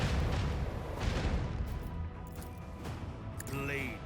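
Ship weapons fire in Warhammer 40k Rogue Trader, with torpedoes and a laser, booms in heavy, dense bursts through the scene. Rumbling impacts overlap and a brief tonal whine rises near the end.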